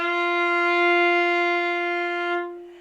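A single sustained violin note, F natural played with a low second finger on the D string, bowed steadily for over two seconds and then stopping, clear and close with no talk.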